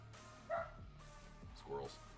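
A dog gives two short, muffled woofs, spaced about a second apart, barking at squirrels indoors, mixed into a low background hum.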